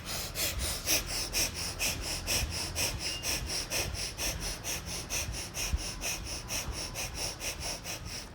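Rapid rhythmic pranayama breathing, the stomach pumping in and out, makes forceful nasal exhalations that repeat roughly twice a second, close and steady throughout.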